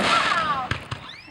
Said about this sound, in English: the annual fireworks show lighting up the sky